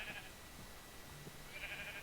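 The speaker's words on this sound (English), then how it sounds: "It just, like, overnight, it became a sheep farm" Sheep bleat on a Minecraft sheep farm, a few short nasal cries near the start and end of a soft, steady game ambience.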